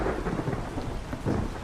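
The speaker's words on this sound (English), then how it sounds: "Let's also hope that this rain doesn't carry on forever." Rain and thunder in the video game ARK: a steady, loud wash of rain with deep rumbling thunder rolling throughout, swelling again near the end, with no voices.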